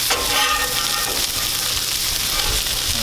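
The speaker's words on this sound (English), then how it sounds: "We're going to take this bacon, put this over here and get this grease off." Bacon frying on a Blackstone griddle, a loud steady sizzle and crackle of hot grease filling the whole stretch, close and continuous with no talk.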